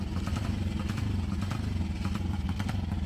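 Vintage Ducati 350 racing motorcycle engine running steadily with a crisp, rapid, pulsing exhaust beat and some mechanical clatter, close and fairly loud.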